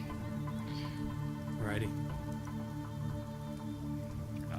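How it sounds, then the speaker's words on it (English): Heavy rain pours in an eerie video game scene, a steady wash of patter under low sustained tones, while a voice speaks briefly over it. "The rain pours, drowning out any sounds of pattering feet"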